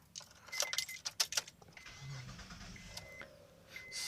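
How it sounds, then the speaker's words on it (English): Keys jangle close by, then a car engine cranks and catches, settling into a quiet idle before fan noise starts. The car is being readied for an AC recharge with an AC Pro kit, and no one speaks. "you're gonna turn on your engine"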